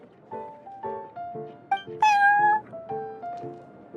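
Prince, a cat in the game Genshin Impact, meows amid soft background music, with one louder, drawn-out meow standing out near the middle over the ongoing tones.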